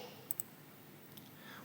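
Two quick, sharp computer mouse clicks sound close together near the start, followed by a fainter click a moment later over a quiet room hum.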